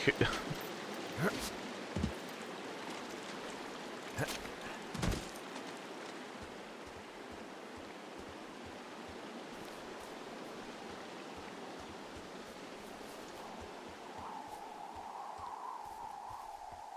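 A shallow creek in the video game Firewatch rushes with a continuous hissing wash, a few sharp knocks early on, and a faint steady hum rising near the end.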